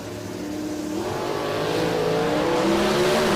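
Nitrous-fed drag race cars at an NMCA muscle car meet, including a Chevrolet Performance stock or factory supercar entry, launch down the strip with a loud, steadily building engine roar that swells and holds without letup.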